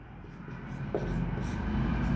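A pen scratches across paper as numbers are written down for a class 9 maths fare problem, a soft continuous scribbling close by with faint strokes and low room noise.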